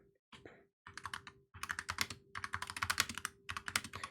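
Rapid typing on a computer keyboard, with a few isolated keystrokes at first and then dense bursts of clicks close by, over a faint steady hum.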